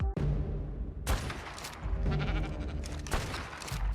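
Bursts of gunfire in ARK, aimed at an Alpha Rex: several sharp volleys with pauses between them over a busy, rumbling game background.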